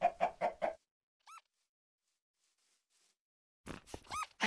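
Blocky video-game chickens from Minecraft cluck in short pitched bursts, one brief call alone in a quiet gap and a quicker cluster of clucks near the end, with other game sounds at the start.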